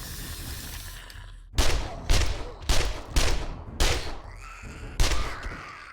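Full-auto gunfire in the survival video game 7 Days to Die during a blood moon night, fired in six sharp loud bursts roughly half a second apart, each with a short ringing tail, close to the listener.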